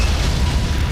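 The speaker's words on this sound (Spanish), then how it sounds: "Solo una de las torretas delanteras, llamada Anton, dispara un proyectil." A deep, sustained boom from a forward gun turret, Anton, on the battleship Bismarck firing a shell, rolling loud and dense throughout with no clear start or decay.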